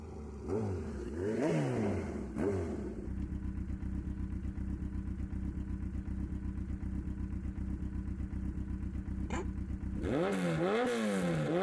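A motorcycle engine in the video game Tomb Raider I revs up in rising and falling swells, settles into a steady loud idle-like drone, then revs hard again near the end.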